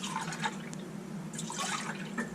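Water splashing and dripping as a can is rinsed out for a slow-cooker Tuscan pasta, a steady close trickle with brief splashy bursts, no talking.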